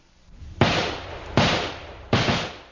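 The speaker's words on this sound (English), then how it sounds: "All 12 men begin shooting." Three sharp gunshots from a gang shooting on a street, evenly spaced about three-quarters of a second apart, each a loud crack trailing into a long echoing decay, with no voices.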